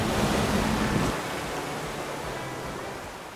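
Ocean surf rolling onto a beach in a seaside town, a dense, steady roar of breaking waves with wind, loudest at first and then easing into a softer, continuous wash.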